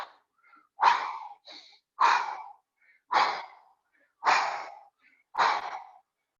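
Repeated deep breaths during a yoga workout, five strong rhythmic exhales about a second apart with softer inhales between, close and loud with no talking.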